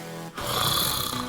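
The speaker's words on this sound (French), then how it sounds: "Génial, en plus elle ronfle." A woman snores close by, a rough, rasping breath drawn in after a brief pause.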